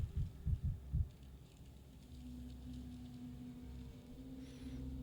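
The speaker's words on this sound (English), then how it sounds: "Heartbeat too fast" Rapid heartbeat in the video game Pathologic 3: Quarantine, about four quick low thumps at the start, followed by a quiet, steady ambient drone.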